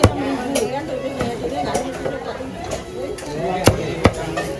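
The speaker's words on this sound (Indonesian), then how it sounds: "Dipotong aja deh. Potong 3 atau 4." A chicken being chopped into pieces with a cleaver at a busy market stall, about eight sharp, irregular chops under steady talk and crowd chatter.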